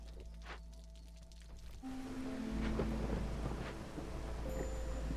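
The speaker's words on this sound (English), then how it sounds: "This storm brought extra hostility with it once more." Rain and thunder in the game Against the Storm: a steady downpour thickens as a low, distant rumble of thunder rolls in and lingers under the rain.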